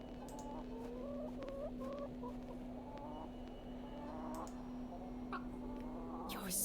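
A chicken in the video game The Excavation of Hob's Barrow clucks in a string of soft, repeated calls over a steady low hum and ambient background, with no talk.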